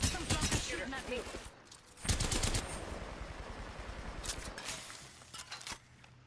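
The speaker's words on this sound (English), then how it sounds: "Some fluffy shooting at me" Rapid bursts of video game gunfire from an enemy shooting at the player crackle in two main volleys, with brief pauses between them and a steady background game ambience underneath.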